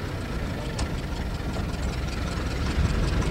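A Lozier car engine pulling in low gear makes a steady, loud low rumble and chug that builds gradually as the vehicle accelerates, with no speech over it.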